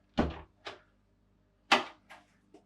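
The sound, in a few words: door on a Balance 580 catamaran closing and locking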